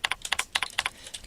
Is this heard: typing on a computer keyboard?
yes